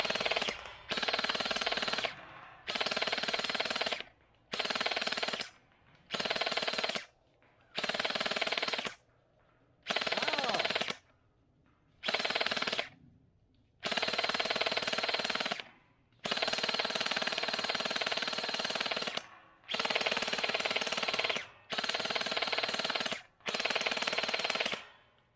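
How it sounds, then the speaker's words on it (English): SKD CS001 gel blaster firing gel balls in repeated sustained bursts, each a dense buzzing rattle lasting a second or two, separated by short silences, loud and close. "So let's unload a whole bunch of gel balls here."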